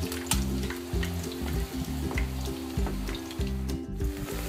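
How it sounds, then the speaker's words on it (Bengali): Tuna fish kebabs fry in a pan over lowered heat, giving a continuous crackling sizzle with faint spits, layered over a low rhythmic hum. "দুই পাশ মিলে 5 মিনিট ভাজলেই হবে।"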